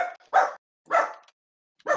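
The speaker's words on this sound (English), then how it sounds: "Oh god, the dog is back." A dog barks three times in quick, evenly spaced bursts, close and fairly loud, with short silences between each bark.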